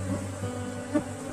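A honey bee swarm drones at an apiary hive box, a constant low buzzing hum with individual bees passing close, soft and unbroken with no voices.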